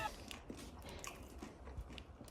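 Someone bites into and chews a soft white wrap filled with thick chicken schnitzel, bacon, avocado and salad. Faint, close-up crunches and mouth noises repeat over about two seconds, with no talking.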